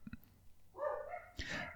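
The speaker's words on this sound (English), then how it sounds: "the local dogs are having a conversation" Local dogs barking nearby in a few short yips at the start, then a longer whining, howl-like bark sequence and another burst near the end, heard alone with no talk.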